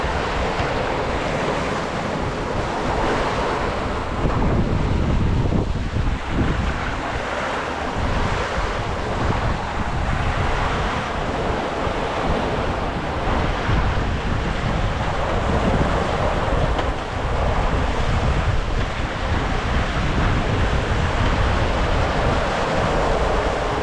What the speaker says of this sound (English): Waves are breaking